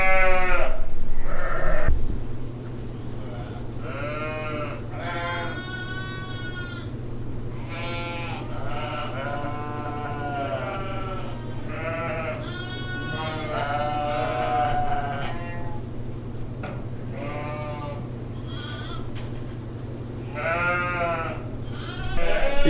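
Ewes and newborn lambs bleat repeatedly and close by in a crowded winter lambing barn in Canada, overlapping calls of varying pitch over a steady low hum, no talk.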